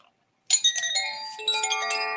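Chimes ring out after a short silence, a burst of bright metallic strikes followed by overlapping sustained tones that layer and ring on, clear and close.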